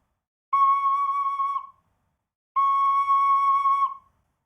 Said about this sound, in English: you're not covering any of the holes on your tin whistle and you're actually playing C sharp